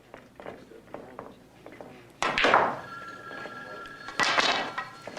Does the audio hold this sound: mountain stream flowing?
no